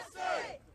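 Small crowd gathered at a park for a border security convoy rally, a brief swell of cheering voices rising and fading over under a second.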